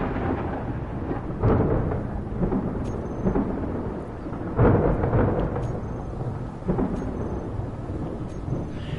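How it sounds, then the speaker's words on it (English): Low rolling thunder rumbles in several swells with a steady rain-like hiss beneath, heard during a lightning storm in a video game; no voices. "we're looking at the lightning out there"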